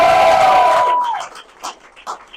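Crowd at a political event in Palm Springs cheering and applauding for Senator Scott Wiener, a loud burst of claps and shouts that fades after about a second into scattered, quieter clapping.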